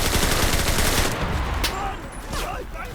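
Gunfire in the WWII shooter Enlisted: a dense, loud automatic burst that continues steadily, then tails off into quieter shots and whizzing sounds.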